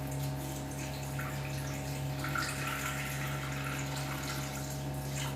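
250 grams of water poured into a Thermomix for a Franche-Comté galette, a steady close splashing stream running continuously without talk over an electrical hum.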